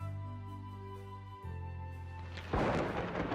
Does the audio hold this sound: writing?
no